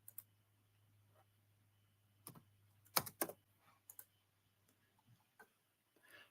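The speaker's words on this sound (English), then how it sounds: "we can go ahead and type in a hint" Scattered keystrokes on a computer keyboard while entering a time into office software, a few louder clicks clustered together among sparse, faint taps over a steady low hum.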